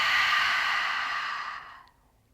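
A long, deep exhale through the mouth during a yoga breathing exercise, a steady close breathy rush that fades into silence after about two seconds.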